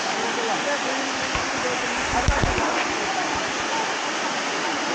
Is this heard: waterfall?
yes